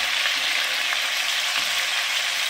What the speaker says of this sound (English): So that's why I like cooking my venison in my bacon grease.